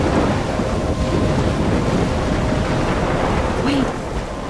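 Thunderstorm in the video game Life is Strange: a steady, dense wash of rain and low rumbling thunder filling the whole stretch, dropping slightly near the end, with no voices.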